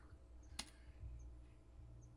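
A single sharp keystroke on a computer keyboard, close and quiet, over a faint room hum, as arrow keys are pressed while working in Illustrator CS6.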